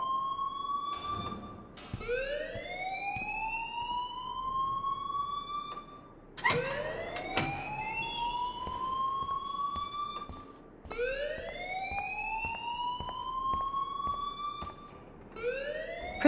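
A wailing alarm siren blares in the video game Life is Strange, rising sweeps repeating in long cycles, loud and steady with no talk over it.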